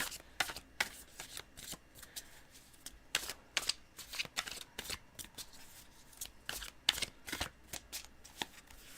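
Tarot cards being shuffled and handled close up, a series of quiet irregular riffling snaps and flicks with soft pauses between them and no talking.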